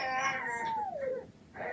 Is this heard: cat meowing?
yes